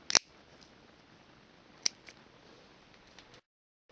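Scissors snipping paracord: a crisp snip at the start, another about two seconds later, and a few faint clicks after, all quiet and close with no talking.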